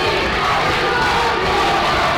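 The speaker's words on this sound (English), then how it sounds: "The crowd getting loud." A high school boys basketball crowd roars loudly and continuously, a dense wall of cheering and shouting from packed stands during a close game.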